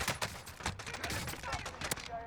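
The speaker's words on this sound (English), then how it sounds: "we end up getting a gunfight" Rapid gunfire from a Call of Duty Warzone firefight on Fortune's Keep, a stream of sharp overlapping shots and bursts packed close together, fairly loud and continuous with game noise beneath.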